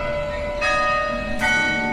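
Church bells of St. Philip's Church on a Charleston street corner in the morning, two loud, ringing strikes about a second apart with long sustained overtones and no voices.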